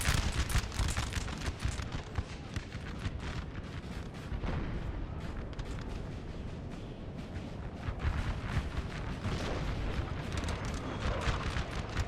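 Rapid volleys of 12-pounder cannon fire in the video game Napoleon: Total War during a Prussian versus French battle, dense overlapping booms and cracks rolling continuously without pause.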